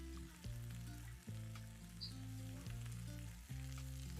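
Fish frying for Cape Malay pickled fish fill the pan with a steady, close sizzle that holds for about four seconds, with brief dips as pieces are shifted and a strong low rumble underneath.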